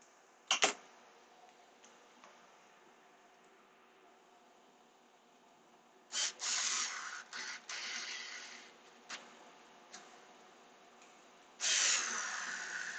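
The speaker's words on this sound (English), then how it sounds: "I send them home with my screw gun" A screw gun drives screws into plastic in several short, whirring bursts. A sharp buzz comes near the start, then a cluster of quick spins later, and one longer final run, against quiet room noise.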